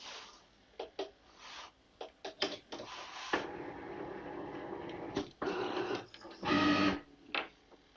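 A Cricut Maker cutting machine powers up with a series of short mechanical whirs and clicks, with a louder buzzing motor burst near the end. The sounds are close and intermittent, with no talking.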